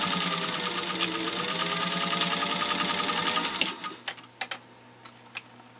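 A Centennial Singer 201-2 sewing machine stitches through six layers of heat-treated compressed felt, a fast, even mechanical chatter for several seconds that stops abruptly, followed by a few scattered clicks.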